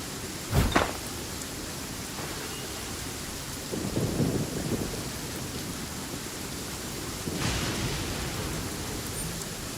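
A thunderstorm in Genshin Impact: steady rain hiss throughout, a sharp close crack of thunder near the start, then rolling rumbles building midway and again near the end.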